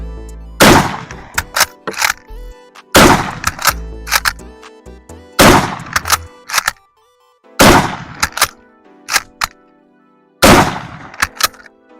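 A Mosin Nagant M91/30 military surplus rifle fired five times, each loud, sharp blast ringing out with a decaying tail, and quieter bolt-cycling clacks in the gaps between shots.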